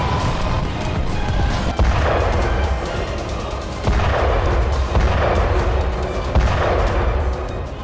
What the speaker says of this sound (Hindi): यूक्रेन के टैंक युद्धाभ्यास के नाम पर गोले दाग रहे हैं, जिसकी गूंज